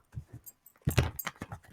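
Tarot cards shuffled during a reading, a run of soft papery riffles and slaps that starts with a few light taps and swells into a denser burst of card flutter up close.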